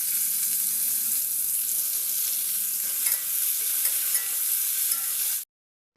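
Vegetables including radish, eggplant, pointed gourd and a few beans frying in a hot pan, a loud continuous sizzle with occasional stirring scrapes, close up and then cutting off abruptly.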